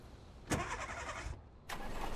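A box truck engine in the VEIN survival game cranks and catches, with a sharp onset followed by a rough, sputtering run that cuts out briefly and then resumes. It is steady and close, with no talking.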